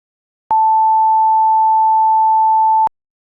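A pure sine wave tone played from a computer: one steady, loud, unwavering pitch held for about two and a half seconds, with abrupt clicks at start and stop and silence around it.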